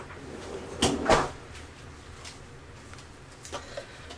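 In a home kitchen, a freezer door is pushed shut with a close, solid thump and a second knock, followed by faint rattles and a few soft knocks in a quiet room.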